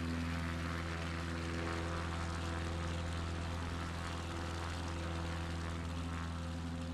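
A propeller airplane engine drones steadily in World Photographer Ops, a loud, constant hum with strong low tones that holds unchanged throughout, with no voices.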